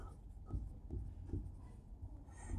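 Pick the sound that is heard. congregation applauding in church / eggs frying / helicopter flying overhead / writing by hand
writing by hand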